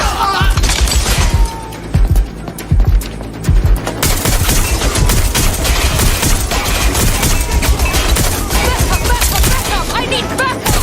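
Suspect's gunfire in the video game Watch Dogs: Legion, rapid loud bursts of shots cracking over a dense battle din for the whole stretch, with the shooting thinning briefly early on before turning into a steady barrage.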